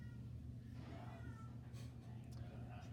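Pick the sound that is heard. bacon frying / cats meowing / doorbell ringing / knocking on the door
cats meowing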